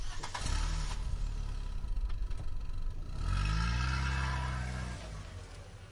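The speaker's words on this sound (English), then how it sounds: "Isidore heard the truck rumble to life outside and drive away from the solar farm" Outside a solar farm, a truck engine turns over and rumbles to life, then revs up and pulls away. The steady drone swells for a couple of seconds and then fades as the truck leaves.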